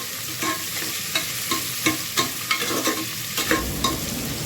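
Chopped onions frying and being stirred in a pan for Andhra-style bagara rice, a steady close sizzle with regular scraping strokes of the spoon, no voices.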